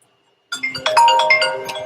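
A phone rings close by in a steady, insistent electronic pattern that starts abruptly after a moment of silence and keeps going without any talk over it.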